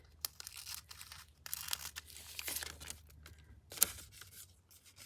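Scissors slicing through a piece of stiff acetate packaging, giving several short crisp snips and crinkly rustles in a quiet room, with no talking.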